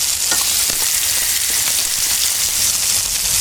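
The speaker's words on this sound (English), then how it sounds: "Next, we are going to fry this salmon" Salmon fries skin-side down in olive oil in a hot skillet, a loud, even, crackling sizzle with tiny spitting pops running continuously and close, with no voices.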